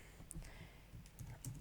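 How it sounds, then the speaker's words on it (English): Someone types on a computer keyboard, producing soft, irregular key clicks at a low level with a few louder taps scattered through. "I can start typing"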